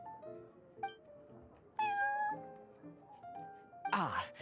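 Prince, a cat in Genshin Impact, meows several times in short, varied calls, some rising and some drawn out. A brighter squeal comes near the end over a soft background.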